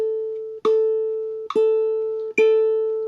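Ukulele plucking its open A string in steady quarter notes, three clear ringing plucks each sustaining bright and close until the next, with no voices.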